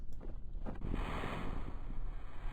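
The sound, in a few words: capsule splashing down into water in Kerbal Space Program video game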